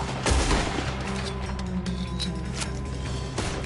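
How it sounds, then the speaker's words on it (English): Gunfire in the video game Red Dead Redemption 2, a dense burst of rapid shots and cracks with lingering echoes and mechanical clatter, loud and close. "we're shooting our way out of here, fellers."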